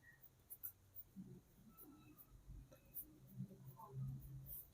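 Faint pen strokes scratching numbers onto paper, soft scattered taps and scrapes recorded close and quiet, with low murmuring in the background.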